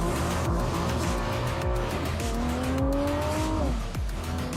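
A car on a test track with a fast curve launches and races hard, its engine droning steadily with gear changes, while the tires squeal in long pitched whines as it corners, loud and close throughout.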